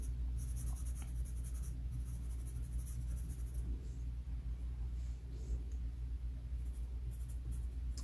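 Charcoal scratches across paper in continuous strokes while a water glass is being drawn, a close, dry scraping over a low steady rumble throughout.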